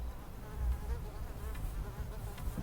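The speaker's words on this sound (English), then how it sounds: "this Coast Guard station where we're at is a nesting area for millions of mosquitoes. We're literally in this dock and we can hear the humming and the zipping" A swarm of mosquitoes at a dockside Coast Guard station fills the air with a continuous, close, wavering whine and buzzing, with no voices present.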